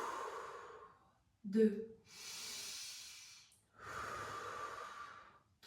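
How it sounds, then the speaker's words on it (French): Slow guided breathing during a fascia-release relaxation exercise: a sharp nasal inhale followed by long, airy exhales through the mouth, close and alone apart from a brief spoken count. "On inspire par le nez, on expire par la bouche."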